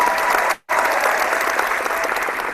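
An audience claps loudly and continuously, breaking off for a split second before the applause resumes at full strength until the end.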